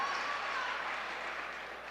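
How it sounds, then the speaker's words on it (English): Crowd at a high school basketball game between Port Huron Northern and St. Clair rises in steady cheering and applause after a made free throw, a broad sustained roar that eases slightly toward the end. "Certainly got a little rise out of the crowd."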